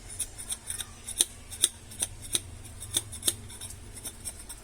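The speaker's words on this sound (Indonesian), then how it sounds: "Kita potong paling gampang tuh menggunakan gunting ya" Scissors snip through material for a homemade BBG mixer part on a Daihatsu Feroza, a quick series of about a dozen crisp, close cuts in an uneven rhythm over faint background hiss.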